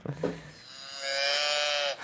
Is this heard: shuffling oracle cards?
no